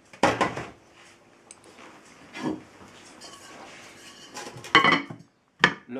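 Heavy metal lid handled and set onto a cast-iron cocotte holding bread dough: several sharp clanks and knocks, close and loud, spaced irregularly with quieter scraping between.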